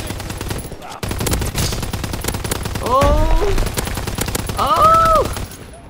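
Call of Duty WW2 gunfire from a VMG 1927, with loud, rapid machine-gun bursts mixed with game effects and other shots, and a man's brief exclamation over the firing.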